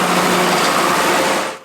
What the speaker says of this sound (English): Dylan Bakken heads out on this John Deere 4230 to cut a third crop of